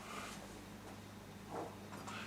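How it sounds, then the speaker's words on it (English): Steady low drone of a clothes dryer tumbling laundry in the background, faint and continuous, with a few soft broadband swishes over it. "That's me dryer drying me clothes."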